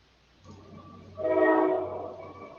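A passing train sounds its horn in the distance, one sustained moderate blast of about a second that fades out, with no talking.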